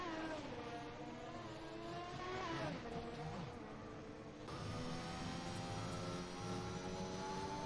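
A car spins out during a race in a racing video game, with a steady whine of several engines at racing speed, pitch shifting as one car loses grip, all fairly faint.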